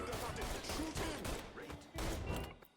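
In Mafia III, a dense, chaotic volley of gunshots cracks out as several bursts of rapid fire. Shouted voices are mixed in with the shooting.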